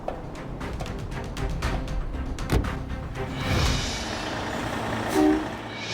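A heavy recovery truck rolls forward with its air brakes charged, a steady low engine rumble carrying an air-brake hiss and brief whooshes near the middle and end.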